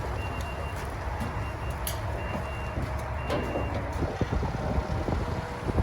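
An old wood chipper being driven around a farm gives a steady, close mechanical rumble throughout, with faint intermittent beeping above it.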